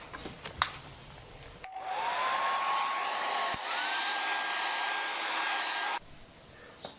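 A hair dryer blows on a freshly painted watercolour, starting abruptly, running steadily at close range with a whining tone that shifts pitch midway, then cutting off sharply after about four seconds.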